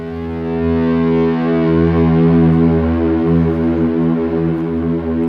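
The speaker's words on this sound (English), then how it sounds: "So I turn the echoes on, turn the volume down, hit a note, open E string." An open E string note played through echo effects swells into a deep, sustained foghorn-like drone, loud and rich with stacked overtones, gently pulsing as the repeats build.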